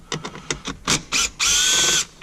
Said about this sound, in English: we do have to take these screws out